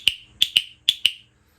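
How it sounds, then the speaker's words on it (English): Five sharp metallic clicks from a replica World War II D-Day cricket clicker of the kind used in Operation Overlord, loud and close, coming singly and in quick pairs with short silences between. "this is a replica of a World War II I think they called them a cricket from Operation Overlord on D-Day"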